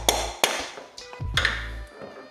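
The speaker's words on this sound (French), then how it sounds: "Petit coup de maillet pour sortir tout ça" A mallet knocks on a motorcycle's fork top triple clamp: four or five sharp, ringing metallic taps spaced irregularly, close and clear with brief resonant decay.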